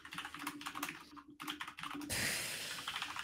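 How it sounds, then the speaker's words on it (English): Rapid, frantic typing on a computer keyboard during a game show, a dense clatter of keystrokes that pauses briefly and then returns in a louder, busier burst. "Max furiously typing."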